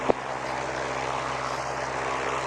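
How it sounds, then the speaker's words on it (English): A propeller aircraft engine runs steadily beside a runway, a constant broadband drone with a low rumbling hum, loud and unbroken, with one brief click near the start. "Propeller spinning around on the thing."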